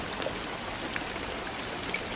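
Light rain pattering steadily on surfaces, a soft, even hiss with scattered individual drops, fairly quiet and uninterrupted.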